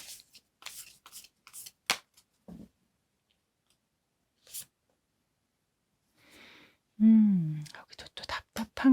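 Tarot cards are shuffled and handled in a quiet room, with crisp, scattered riffles, taps and clicks separated by silences; a voice speaks briefly near the end.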